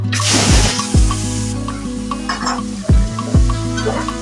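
Bitter gourd and potato pieces frying in hot oil in a pan, a loud close sizzle with several sharp scraping stirs of a spatula spaced across the few seconds.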